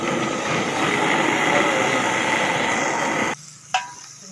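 Kofta frying in oil in a kadhai, a steady dense sizzle and crackle that runs loud for about three seconds, then cuts off abruptly, leaving a short sharp clink and faint background.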